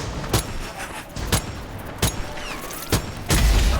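Five sharp, loud gunshots ring out in the video game Strange Brigade, spaced about a second apart, each a short punchy crack with a brief tail and no talk over them.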